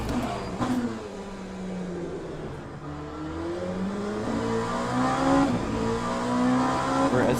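Race car engine in Le Mans Ultimate, revving and shifting with rising whine through the gears, loud and continuous with a brief tire squeal.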